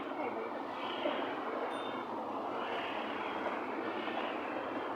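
Trams rolling through a Berlin street near Boxhagener Platz at night, a steady broadband rumble and rail hiss sustained throughout at close range, with a faint brief squeal and no talk.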